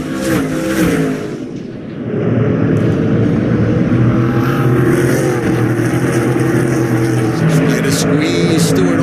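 Race cars lapping the Stafford short oval during an SRX 2022 event, engines roaring loud and steady with a rising pitch as the pack accelerates. Commentary runs over the sustained engine noise.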